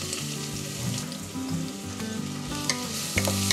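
Sliced medium onions sautéing in hot oil in a cooker, a steady close sizzle and crackle with occasional stirring clinks, no talking.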